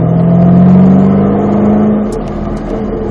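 A Mustang Shelby accelerating hard on a race circuit, its engine loud and close with a rising drone that fades into a lighter whir near the end.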